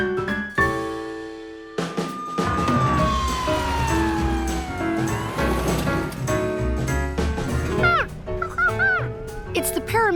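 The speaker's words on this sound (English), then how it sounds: "George, would you like to ride in the ambulance with us?" An ambulance siren wails with rising and falling sweeps, mixed with other busy sounds, growing more insistent toward the end.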